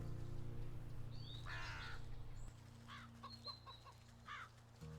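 Crows cawing in the video game Wytchwood, a few rough caws and clucky calls over a steady low game hum, moderately loud and without talk.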